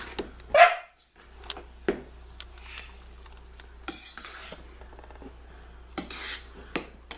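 Esme the dog gives a few sharp barks, spaced out and fairly close, over soft kitchen clatter and stirring while eggrolls are being prepared at home.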